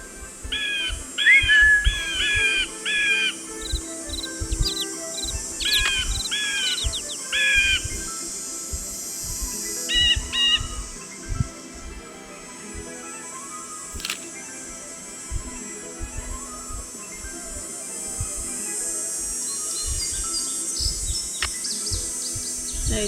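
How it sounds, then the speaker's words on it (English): Bluebird song plays in a forest scene of the video game Ghost Dogs of Moon Lake: clusters of bright chirping phrases repeat over the first ten seconds, then fade, along with soft clicking footsteps and faint ambience. "Right, that's the bluebird."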